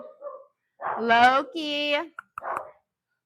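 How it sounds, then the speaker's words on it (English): Pet dogs bark and yelp at neighborhood dogs in a home kitchen, a few loud close bursts with harmonic yips, mixed with a person speaking briefly. "Our dogs are alerting us to the neighborhood dogs right now."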